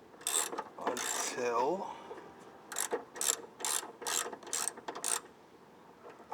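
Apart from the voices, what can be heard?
ratchet turning the rear shock top bolt on a Jeep Cherokee XJ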